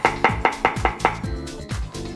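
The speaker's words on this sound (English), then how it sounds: "Just going to slice them." A knife slices chestnut mushrooms on a chopping board in a home kitchen. The cuts land in a quick, even rhythm of about nine crisp thuds, close and clear, with no talk.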